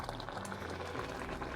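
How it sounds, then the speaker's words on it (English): A pot of cranberry sauce with pineapple and honey comes to a boil, giving a steady, close bubbling and sizzling simmer that holds evenly throughout with no voices. "I'm just gonna wait until it comes up to a boil before we go on to our next step"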